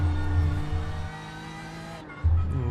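Race car in third gear in a Nürburgring 24h racing game, engine droning loud and steady with a brief drop-off and renewed surge near the end, wheel spin under load, no voices.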